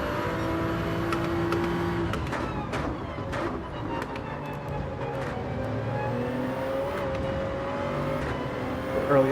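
A race car engine in Gran Turismo 7 at Gilles Villeneuve, revving and shifting with sharp upshift pops and steady drone, loud and continuous throughout.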